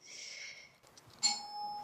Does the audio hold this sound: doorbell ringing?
yes